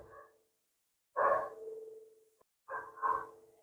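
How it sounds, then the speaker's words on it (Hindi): Dogs bark outdoors, heard from inside during a maths lesson: a short bark, then two bursts of several echoing barks, somewhat distant and otherwise alone. "कुत्तों का भौंकना बंद नहीं होता"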